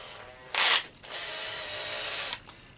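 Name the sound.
power drill threading a rod into plastic RC brake linkage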